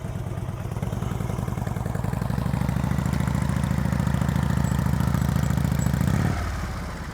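A motorcycle engine idles and putters at low revs during slow-speed riding practice, a close, steady rhythmic chug that holds for about six seconds before easing slightly.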